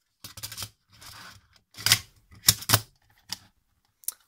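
A part of an old metal detector is pressed and clips back into place. Several sharp plastic clicks and rattling snaps come in separate short bursts at close range, with quiet gaps between them and no talking.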